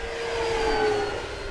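An FMS 1700mm Corsair V3 RC warbird on a 6S power system passes with a loud, steady electric whine and a sustained propeller hum, a high tone sliding slightly lower as it flies by.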